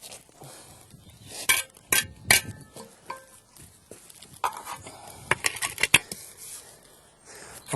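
Steel bricklaying trowel scraping and tapping as mortar is buttered onto brick ends, giving sharp close clinks and scrapes in irregular bursts with quiet gaps between.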